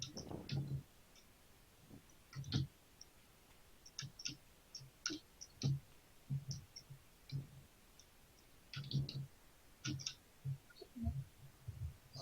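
Quiet, irregular clicks and taps of typing on a computer keyboard come in small clusters and short pauses, faint and close, with no voices over them.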